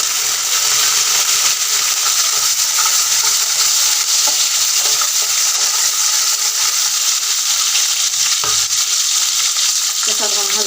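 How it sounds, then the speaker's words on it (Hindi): Loud, steady sizzling as peas are tossed into spices frying in a pan for matar kulcha, with occasional stirring scrapes over the constant hiss, close and continuous, no voices. "इसी के साथ हम मटर भी डाल देंगे।"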